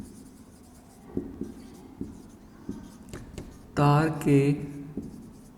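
Soft taps and scrapes of writing on a board in a physics lecture, brief strokes spread through the moment while a teacher's voice briefly speaks over them.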